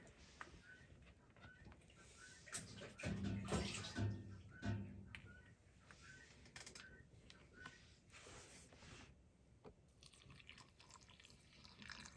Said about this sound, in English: So I'm just pouring my water up.